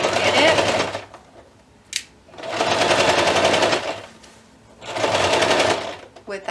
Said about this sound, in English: I'm going to try and stitch as close to that edge as I can